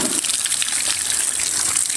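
Water gushing steadily out of a pipe at a construction site, a loud continuous rushing splash with no breaks.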